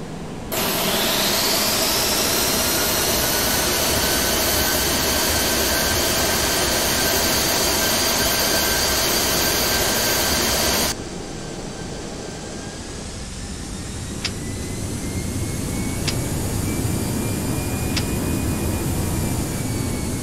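Jet engines of an Aerosoft A319 spool up to a loud, steady takeoff roar in a flight simulator, holding for about ten seconds before dropping to a quieter, continuous cabin hum with a few faint clicks.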